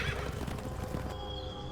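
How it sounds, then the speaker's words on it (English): A big black horse gives a short whinny over a low, rumbling background, brief and fairly close. "I'm seeing a big black horse."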